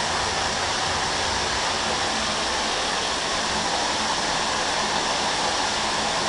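Hot water runs steadily into a slow shower drain, a continuous broadband rushing and splashing that stays loud and even throughout, with no voices.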